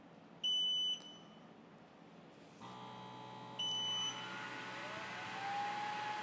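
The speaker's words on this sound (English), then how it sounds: "All right, we got fans running. We got our air assist running. I hear the pump turning on over here." A Creality Falcon2 Pro 40W laser engraver and cutter powers up with sharp startup beeps, then its cooling fans and air assist pump start and hold a steady whirring hum that rises as further parts switch on.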